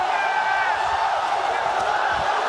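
A large arena crowd at a League of Legends All-Stars match roars continuously, a dense, loud wash of cheering and shouting with no clear breaks.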